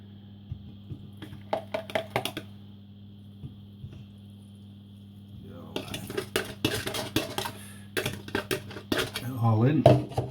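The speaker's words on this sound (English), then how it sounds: "just carry on mixing it till it all comes together as a dough" Bread dough being mixed in a bowl, with irregular clinks and scrapes of a utensil against the bowl that grow busier and louder in the second half, over a low steady hum.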